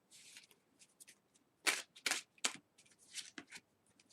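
Oracle cards are shuffled close up in a quiet room, with soft riffling runs and several sharper card snaps in quick succession.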